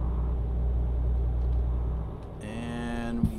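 A truck engine in Euro Truck Simulator drones in a steady low rumble at 90 km/h, then shifts as tonal electronic chimes and a brief clunk enter near the end.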